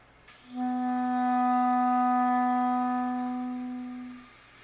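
A single clarinet note, C sharp, is held steady for about four seconds, clear and reedy, then fades out.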